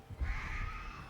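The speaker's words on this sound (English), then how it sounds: "Dire Crows coming in. There's the swarm spreading out." Dire Crows cawing in the horror game Dead by Daylight, a swarm spreading out during a match, heard as a harsh, sustained squawking chorus over a low rumbling game backdrop.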